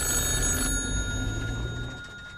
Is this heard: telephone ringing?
yes